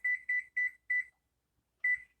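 An oven timer beeping as it is set: four quick evenly spaced electronic beeps, a pause, then one more beep, clear and close with no talk.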